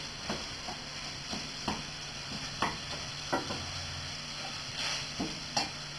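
Tofu stirred in a sizzling frying pan, a steady bright hiss of frying broken by repeated scraping stirs of the spoon against the pan, close and alone.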